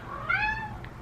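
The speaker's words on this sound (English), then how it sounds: "I have a cat." A pet cat named Charney meows once, a clear rising-and-falling call standing out over a low background hum.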